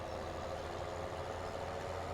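A windrower engine in the Farming Simulator game runs at a steady low idle, an even drone that carries on alone without talk.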